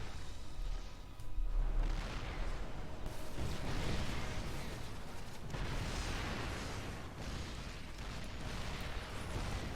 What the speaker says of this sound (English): The tanks just take down the queen with just one volley.